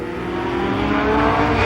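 Four-cylinder touring race cars on Hoosier racing slicks roar past at speed on a short oval speedway, a dense, loud, steady engine drone that swells slightly toward the end with no talk over it.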